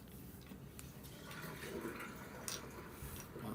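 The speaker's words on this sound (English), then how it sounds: "Got my sink draining again." Water draining from a household sink, a steady low gurgling rush with faint splashes and drips, continuous throughout at modest volume.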